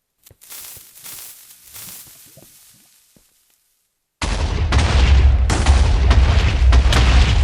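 A TNT block detonates in the Minecraft video game as a sudden, loud, sustained blast that rumbles on after quieter faint game sounds.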